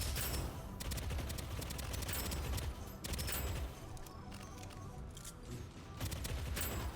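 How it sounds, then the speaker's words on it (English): Rapid SMG fire in the roguelite shooter Deadzone: Rogue, loud close bursts of automatic shots in several volleys separated by brief pauses. "Even though we've got an SMG, it's still got nice range."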